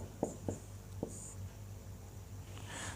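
A teacher writes a word on a board during a Sanskrit translation lesson: three short, faint chalk taps and scratches in quick succession, followed by quiet room noise.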